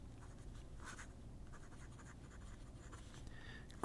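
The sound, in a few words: fountain pen nib writing on paper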